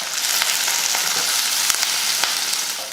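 Mustard seeds, urad dal, curry leaves, onion and green chilies sizzle and crackle steadily in hot oil, a close, loud, continuous frying hiss with scattered sharp pops and no talking.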